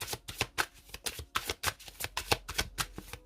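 Tarot cards are riffled and shuffled in quick, crisp bursts, with a dozen or so close, snappy card flicks in an uneven rhythm and no talking.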